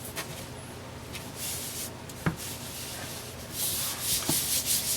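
Paper being rubbed and smoothed flat onto a puzzle board, a close, continuous dry scraping and rustling with uneven strokes and a few soft taps, no voices.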